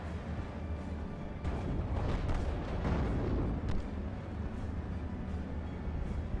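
Heavy, sustained rumbling barrage from a rocket run strike in a war video game, with dense overlapping explosions swelling loud midway and settling into a continuous roar, with no talking.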